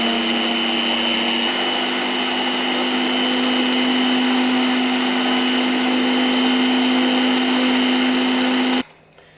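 An electric mixer beats egg whites in a steady, loud, high-pitched whir that runs for about nine seconds before cutting off abruptly.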